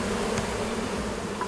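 Wild honeybees droning steadily around a cliffside hive high on a remote mountain, a continuous close insect hum with no voices.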